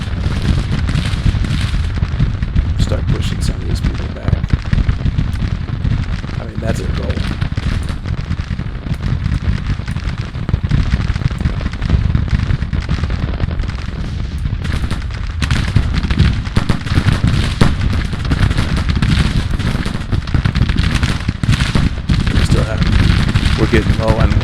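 Dense Civil War musket volleys and artillery fire from the strategy game Grand Tactician: Civil War, a continuous loud crackle of overlapping shots and booms throughout, with a voice talking over it.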